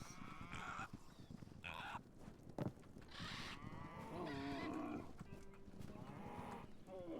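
Several cows low and moo in the video game Hytale, with a few drawn-out calls standing out over a busy bed of game ambience and other animal noises, without any talking.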